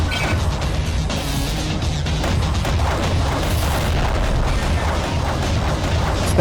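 Torpedo explosions in the underwater combat game Aquanox, a dense, continuous rumble of booms and crashes with heavy low-end weight, loud and sustained throughout with no talk.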